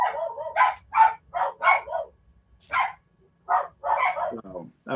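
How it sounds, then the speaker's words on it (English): Dogs at a homestead bark in a rapid series of sharp yips and woofs, close and loud, with brief pauses and a whimpering tail at the end. "my dogs are making me crazy"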